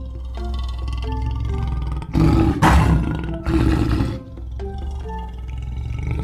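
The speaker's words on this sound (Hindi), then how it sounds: "तभी उन्हें एक शेर की दहाड़ सुनाई देती है।" A story sound effect of a lion roaring, with two loud, rough, close roars in the middle separated by a short breath, set against a bed of background music.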